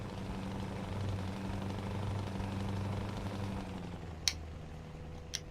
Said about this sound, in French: comme vous entendez, vous avez le son V8